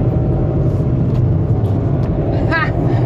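Engine of a manual stick-shift car heard from inside the cabin while shifting gears: a loud, steady low rumble throughout, with a brief chirping squeak near the end.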